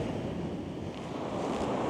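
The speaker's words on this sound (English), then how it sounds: "We've got the waves coming across on a diagonal" Sea waves rolling diagonally onto a shore and breaking against groyne sea defences, a steady close wash of surf mixed with wind rumble and no break in the noise.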